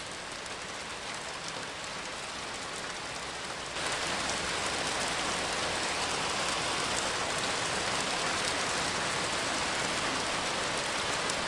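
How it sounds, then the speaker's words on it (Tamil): Steady rain falls in a dense, even hiss, growing noticeably heavier partway through and then holding as a loud, continuous downpour with no voices. "என்ன மழை பெய்யுது?"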